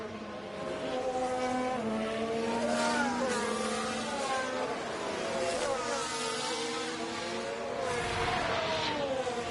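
F1 race car engines scream around Imola in F1 Manager 24, several high-revving cars rising and falling in pitch as they pass and shift, loud and continuous.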